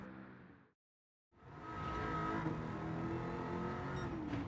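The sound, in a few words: Mercedes-AMG C 63 S '15 car engine on track, Gran Turismo 7 video game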